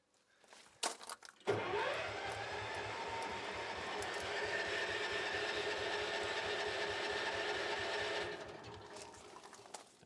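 A 1987 Ford F350 with a 6.9 IDI diesel engine cranks over without firing, giving a few sharp clicks and then a steady, rhythmic churning of the starter for about six and a half seconds before it stops.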